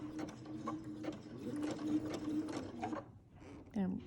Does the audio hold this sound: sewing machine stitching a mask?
yes